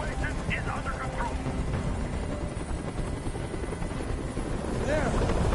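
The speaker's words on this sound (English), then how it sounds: "Tell that helicopter to get out of here." A helicopter hovers in the video game Nobody Becomes Human: a loud, steady rotor roar runs through the whole stretch while voices talk over it.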